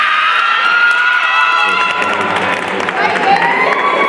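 A large crowd of students screams and cheers loudly all at once, a dense sustained roar of high voices and whoops, with speech mixed in.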